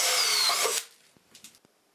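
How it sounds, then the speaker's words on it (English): A power drill bores a hole into a wooden saw track for wall hanging, a loud high whine for most of a second that cuts off, followed by a few quiet knocks and clicks of handling. "Next I drilled the holes for hanging the track on the wall."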